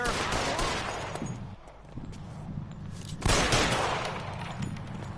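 Gunfire in LA Noire, a 1940s Los Angeles crime game: a dense, loud volley of shots lasts throughout, easing briefly midway and then bursting back in close.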